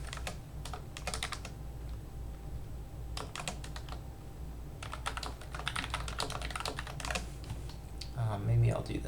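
Bursts of rapid keystrokes on a computer keyboard while code is entered, clattering in uneven runs with short pauses over a steady background hum, with a voice talking at times.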